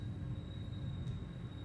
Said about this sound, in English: This train is going above our freaking head